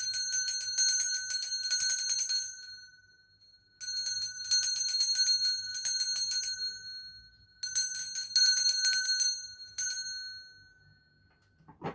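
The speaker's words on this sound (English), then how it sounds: "I'm going to ring a bell. This is just to cleanse the space around us." A small hand bell rings to cleanse the space, in four bright shimmering rapid bursts of trilling tones, each ringing out and fading, clear and near in otherwise quiet surroundings.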